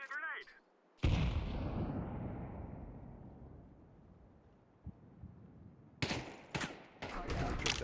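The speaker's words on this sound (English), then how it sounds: "I'm throwing a grenade." Grenade blast in a video game during a Pokémon raid session: a sudden loud boom with a long rumbling decay, followed by further sharp bursts of game noise near the end.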